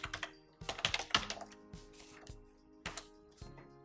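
Fingers type on a computer keyboard with irregular clusters of close, crisp key clicks, quick bursts broken by short pauses.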